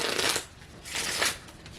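A deck of playing cards being shuffled, two brisk riffling bursts close to the listener, with no talk.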